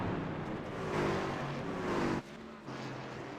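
Race trucks circle the track at Watkins Glen, with a steady, loud engine drone that rises and falls as they pass, then drops abruptly near the end and resumes more quietly.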